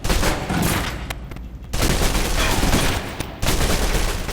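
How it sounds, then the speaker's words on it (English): Gunfire aimed at a target from behind cover in the video game Alpha Protocol: loud, dense bursts of rapid shots, broken by two brief pauses, close and dominant. "Still using cover, take some shots at the target."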